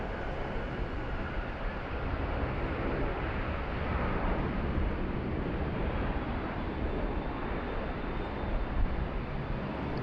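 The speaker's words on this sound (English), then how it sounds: "we finally got our first 717 movement of the day" A Boeing 717 jet airliner rolls along the runway at Sydney Airport during a thunderstorm, giving a steady, broad roar of engine and wind noise that holds evenly at moderate loudness throughout, with no talk.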